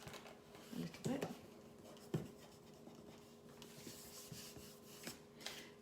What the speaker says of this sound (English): I'm just going to rub that and burnish that down